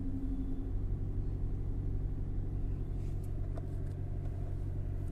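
A Toyota Glanza's engine idles just after starting, a steady, close, low rumble holding evenly throughout, with a few faint clicks near the end.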